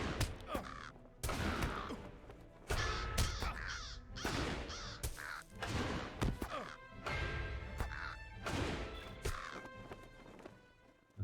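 Crows caw loudly and repeatedly while under attack in the fantasy game LOTRO, their harsh calls coming in bursts over impact and combat sounds.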